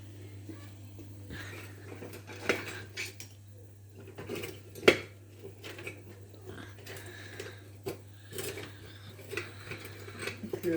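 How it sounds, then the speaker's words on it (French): A leg of lamb searing in a cast-iron cocotte, with a steady low sizzle and hum under scattered clinks and knocks of metal utensils against the pot, close and moderately quiet. "on va colorer notre gigot d'agneau dans la cocotte"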